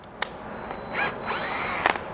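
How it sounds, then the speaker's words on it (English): A cordless drill slowly driving a thread tap into holes during a Bronco roof rack install, a steady motor whine with a couple of sharp clicks at the start and end, close by. "We're going to chuck it up in the cordless drill and tap these holes."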